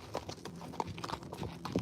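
Horse hooves clip-clop in a steady rhythm under a horse and rider on a trail ride, close and fairly clear over a light background.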